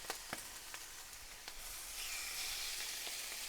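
Chicken livers hiss and sizzle faintly in a hot frying pan, with a few sharp pops and ticks early on, then a steadier, slightly louder frying hiss.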